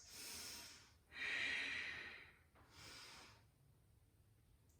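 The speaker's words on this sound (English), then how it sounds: "deep Ujjayi breaths" Deep ocean-like Ujjayi breaths during a yoga flow, three long hissing throat breaths in and out, close and fairly quiet, with no talking.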